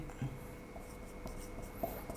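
Quiet handwriting with a pen on paper during a Hindi lesson on the thyroid gland, soft short scratching strokes close by in a near-silent room.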